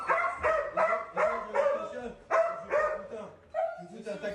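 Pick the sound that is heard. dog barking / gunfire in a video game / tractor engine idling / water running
dog barking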